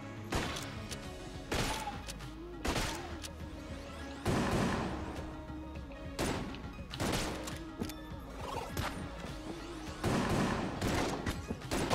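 Gunfire in Enter the Gungeon comes in repeated sharp bursts of shots and impacts, loud and close, spaced every second or so across the stretch.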